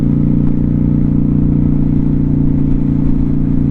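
Steady, loud engine drone from a Honda Shadow 750 motorcycle while riding, holding an even low rumble throughout with constant wind and road noise and no talking.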